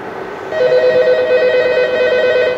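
An analog telephone connected through a Linksys ATA PAP2T rings loudly and steadily with a continuous electronic tone, starting abruptly after a quiet moment.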